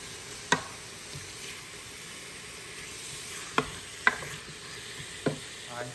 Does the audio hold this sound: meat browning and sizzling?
yes